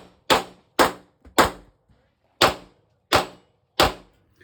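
Six sharp shots from a Ruger RXM pistol at a range during a competition match, fired singly in an uneven rhythm with short gaps, loud and close, each with a quick decay and no voices.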